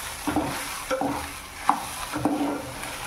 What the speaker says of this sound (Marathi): आता मी थोडीशी कोथिंबीर टाकणार आहे.